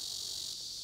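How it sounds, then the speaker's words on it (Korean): Cicadas drone in a continuous, shrill, unbroken buzz at the Dalakgol shrine in Cheongyang, South Chungcheong, on a summer day after rain. "귀를 찌를 듯한 매미 울음소리를 뒤로 하고"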